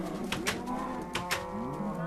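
Minecraft cows moo in a game, several low, drawn-out calls overlapping one another over a couple of seconds, with a few faint clicks between them.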